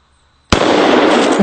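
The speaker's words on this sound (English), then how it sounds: "we're firing 2 230 grain bullets every time we pull the trigger" A double-barrel 1911 pistol fires two 230 grain bullets at once, one sudden, very loud blast after a moment of near silence, followed by a long harsh roar of noise.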